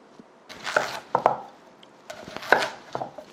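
A knife chops summer radish into small cubes for kkakdugi on a cutting board, sharp uneven thuds coming in two bursts with a short pause between, close and clear.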